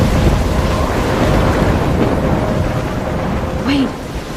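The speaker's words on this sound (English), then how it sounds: "I'm trapped in a storm?" Thunderstorm in the video game Life is Strange: loud, continuous roaring rumble of thunder with wind and rain noise, easing slightly toward the end, with a faint brief vocal sound near the close.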